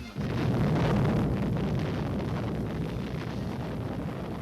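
A Cold War nuclear bomb test explosion: a sudden onset of a massive, sustained low roar that rumbles steadily and fades only slightly over several seconds, heavy and distant-sounding like a blast wave with wind.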